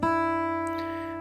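A single open low E string plucked on a guitar, ringing out alone and close, slowly fading over about a second.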